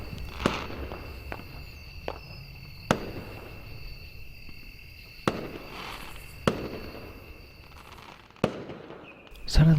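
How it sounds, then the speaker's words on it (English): Fireworks rockets in the Angels with Scaly Wings game, launching and bursting at night, about eight sharp cracks spread unevenly over a quiet night backdrop with faint insect chirping. "I heard the sound of the first rocket make its way into the night sky afterwards exploding in a pattern of colors"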